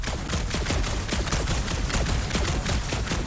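Rapid bursts of gunfire from weapons in the Guardians of the Galaxy video game, a dense loud rattle of overlapping shots across the whole stretch.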